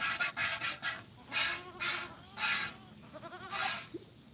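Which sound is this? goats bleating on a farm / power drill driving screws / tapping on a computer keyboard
goats bleating on a farm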